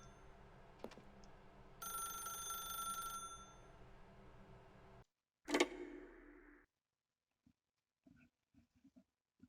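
A telephone rings in a short burst of bright, steady trilling, then a brief clatter and near silence with faint small knocks, all quiet.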